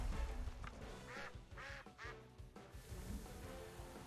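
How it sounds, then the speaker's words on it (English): A stock duck quack from a Temtem-style creature battle video game: several bright, nasal quacks in quick succession over steady game music, moderately loud and close. "Gotta love default duck sound."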